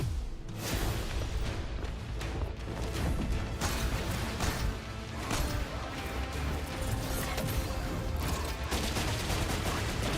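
Dense, continuous gunfire and crashing impacts from the shooter game Renegades, a loud, unbroken barrage of shots with clattering mechanical sounds, crowding the whole stretch with little pause.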